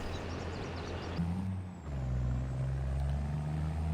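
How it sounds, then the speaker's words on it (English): A Volvo truck pulling a trailer drives in Farming Simulator 22, its steady low engine drone rising after a brief hiss and shift in tone, continuous and close, with no talk. "we're just in the Volvo getting this lorry and this truck and its trailer down"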